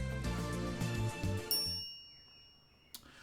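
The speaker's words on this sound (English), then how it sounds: "A chime signals our arrival on the 5th floor." An elevator arrival chime in the Steins;Gate video game, a clear bell tone ringing out and fading as background music drops away, followed by a brief faint click.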